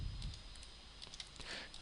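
Computer keyboard keys tapped to delete entries in SPSS, a quick run of light, soft clicks over a faint background hiss.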